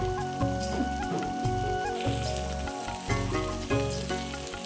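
Fish frying in hot oil as released water cooks off, giving a steady crackling sizzle that is partly masked by louder melodic background music.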